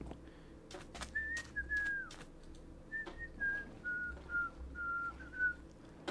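A man whistles a melody in a series of clear, sustained phrases at moderate loudness over a low steady background hum, with soft clicks between phrases.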